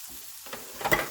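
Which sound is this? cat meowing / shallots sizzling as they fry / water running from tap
shallots sizzling as they fry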